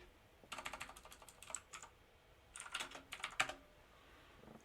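Computer keyboard keys tapped in two quick bursts separated by a short pause, soft and close, with no voices.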